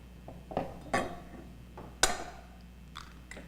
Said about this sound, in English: Start off by cracking the eggs into a bowl.